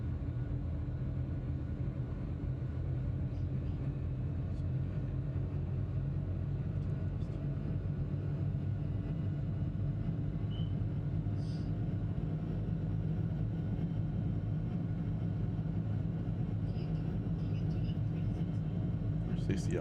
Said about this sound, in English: Jet is not as fast as the other one.